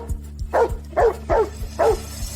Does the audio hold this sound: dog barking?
yes